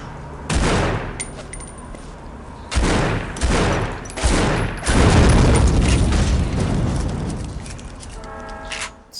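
Heavy shotgun blasts in the snowy shooter Shadow Ops: Red Mercury, several loud booming shots spaced a second or two apart, followed by sustained rumbling gunfire and explosions, with electronic beeps near the end.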